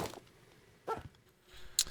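A dog in a video game gives a few short, faint barks and yips, spaced apart against a quiet background.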